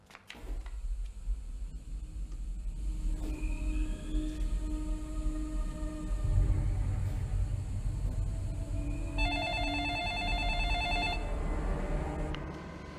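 A telephone rings in a scene from the film The Ring, a burst of bright electronic trilling over a deep rumbling drone and eerie tonal score.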